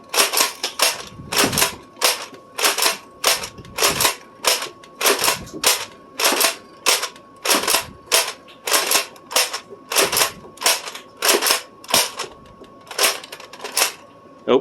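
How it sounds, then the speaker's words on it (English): A modded NERF Vortex Praxis fires genuine vortex and headshot discs in a rapid, regular series of sharp snapping shots, about two per second, close and loud. "we're going to fire off 5 genuine vortex and 5 headshot ammo discs"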